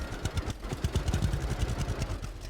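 A tractor engine in the farming game Farmer's Dynasty runs with a rapid, rough, chugging pulse at moderate volume, with no voices.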